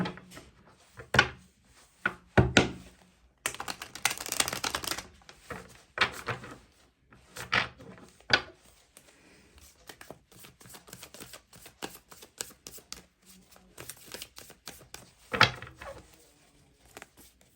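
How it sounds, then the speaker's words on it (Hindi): Tarot cards being drawn from a deck and shuffled, a run of close papery slaps and riffles in scattered bursts with quiet gaps between them and no talking. "मैं कार्ड्स निकाल लूँ पहले।"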